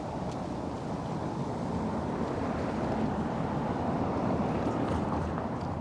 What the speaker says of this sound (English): It's a little bit breezy today too.